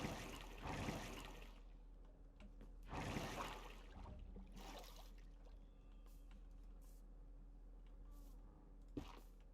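Flowing water streams in Minecraft, a steady trickling wash with a few louder splashy surges and scattered drips over nearly ten seconds, fairly quiet and heard without talk.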